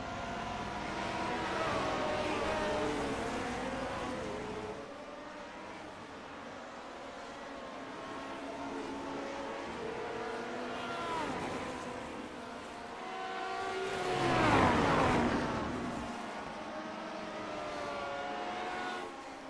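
Vintage Lotus 49 Formula One race cars in the iRacing sim at WeatherTech Raceway near the corkscrew: layered engine whines rise and fall steadily, with one car swelling louder as it passes close near the end.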